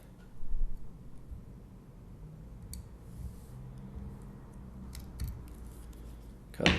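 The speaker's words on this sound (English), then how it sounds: "Take my wire cutters" Wire cutters snip thread at a fly-tying vise, a few small, brief clicks and snips over quiet background noise, close by, with no voices.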